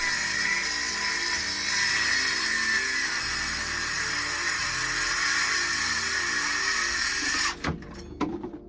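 Power saw cutting scrap wood for a reptile enclosure, a loud steady high-pitched whine running nearly the whole time, then cutting off with a few sharp knocks and clatters at the end.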